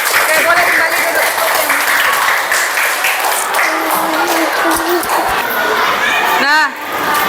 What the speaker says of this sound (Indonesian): Oke, kasih aplaus untuk kelompok 2 ya.